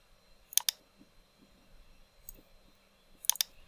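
A computer mouse scroll wheel turned while Ctrl is held gives two quick pairs of sharp, close clicks separated by a quiet pause, with a faint tick between them.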